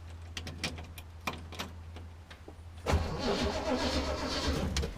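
A long-idle engine, one with a hand throttle, gives a few faint clicks and knocks, then cranks and catches about three seconds in, settling into a rough, steady running rumble close by.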